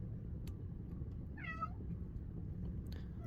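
A tuxedo cat gives one short meow in the background, faint and somewhat distant, over a steady low room hum.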